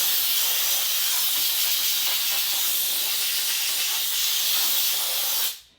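A Wagner Spraytech 915e on-demand steam cleaner blasts a loud, steady broadband hiss onto an oven for several seconds before cutting off abruptly.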